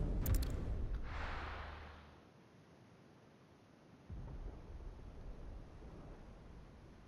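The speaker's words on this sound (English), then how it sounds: "Sounds like thunder." Deep rumbling thunder from the video game Final Fantasy XVI: a sharp crack at the start, a rolling roar that fades over a couple of seconds, then a lower sustained rumble swelling back in and continuing steadily.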